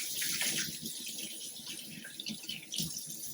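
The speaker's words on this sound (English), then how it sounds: "Let me wash my hands." A kitchen tap runs steadily into the sink while hands are washed after handling raw chicken. The close, hissing, splashing flow carries on without a break, and no voices are heard.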